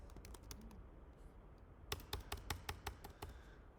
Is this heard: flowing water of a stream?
no